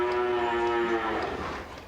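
A cow on a dairy farm lets out one long, loud, close moo with a strong tonal low voice that fades toward the end.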